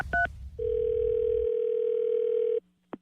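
A telephone dial tone plays on a live radio phone call: a couple of short beeps, then a steady tone held for about two seconds that cuts off, followed by a brief click.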